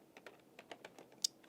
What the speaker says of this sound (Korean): 풀네임으로 타이핑 해보는 겁니다